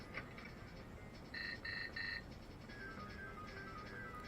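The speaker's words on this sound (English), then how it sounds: "the metal detector detects that I have metal" A metal detector in the N64 game 007 The World Is Not Enough beeps three times in quick succession, short electronic tones that are clear but modest in level over a faint background hum, with no talk.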